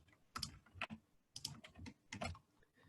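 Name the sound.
typing a shortcut on a computer keyboard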